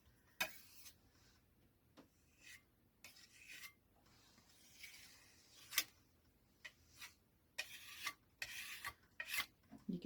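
Acrylic paint scraped across a canvas while painting white roses, a series of soft, raspy scrapes in irregular strokes, fairly quiet and close, with no talking.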